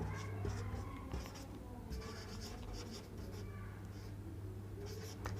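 Pen or chalk writing out a C program by hand during a programming lecture, a steady scratchy stroke sound continuing over several seconds with a constant low hum underneath.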